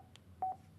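A Cardo Scala Rider Freecom 2 motorcycle headset gives a couple of brief, faint electronic beeps as its button is tapped, sounding close in a quiet room.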